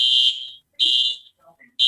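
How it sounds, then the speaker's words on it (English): A fire alarm sounds in loud, steady electronic beeps, each about half a second long and separated by short gaps, with faint background noise between them. "see whether the fire alarm at Douglas is still going"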